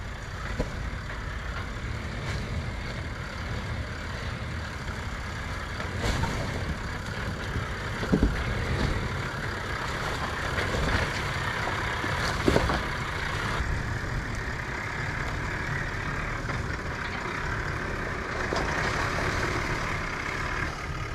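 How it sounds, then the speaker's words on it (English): Truck crawling down a couple of small off-road hills over rocks, a continuous low engine rumble with occasional knocks and creaks from the terrain, steady and fairly close throughout. "So let's get in it, drive down these couple of little hills."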